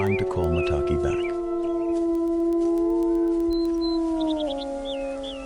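Several wolves of a grieving pack howl together in long, mournful, sustained rising and falling tones, close and loud, with shorter yips and higher wavering howls joining toward the end.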